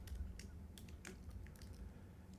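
Quick, quiet clicks of keys on a computer keyboard in an irregular run of light taps, close and soft, with no talking.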